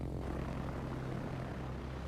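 Propeller airplane engine in a video game, a steady low droning hum holding at a constant moderate level throughout with no voices.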